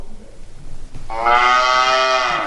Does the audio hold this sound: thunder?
no